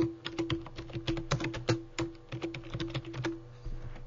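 Steady, quick keystrokes clatter on a computer keyboard nearby, a dense run of soft clicks with small uneven pauses and no voices over them.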